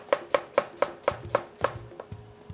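A knife slices onions thinly for pickled onions, about eight crisp evenly spaced chops on a cutting board, close and clear with no talking.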